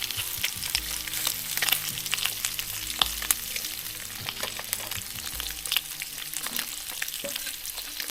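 Bacon sizzles and spits in a pan on a Trangia 25 Duossal alcohol stove, a steady dense crackle with scattered sharper pops and occasional scraping stirs, close and continuous with no talking.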